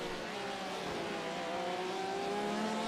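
Number 37 Porsche race car running at speed during the 24 Hours of Le Mans, a steady engine note with rising and falling tones held continuously, moderately loud and alone with no voices.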